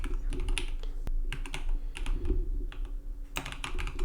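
Steady, rapid typing on a computer keyboard, close and clear, with a brisk run of keystrokes, a brief slower patch midway and a sharper clack near the one-second mark.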